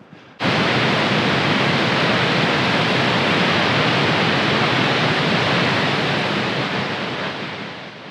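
Waterfall in Iceland: a broad, steady roar of rushing falling water that starts abruptly and holds strong and close, easing slightly toward the end.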